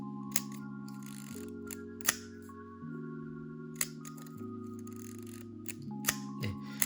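An Olympus 35RC film camera's advance mechanism winds film with a few sharp mechanical clicks spread several beats apart, set against a steady hum of background music.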